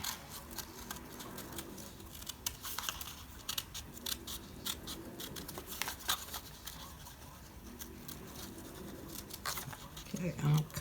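Scissors snip through paper for a junk journal, fussy cutting around a shape in a quiet series of small, irregular clicks close by, with someone talking through much of it.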